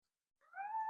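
A single drawn-out cat meow rising and holding steady, clear and close in a quiet room, a pet calling for attention.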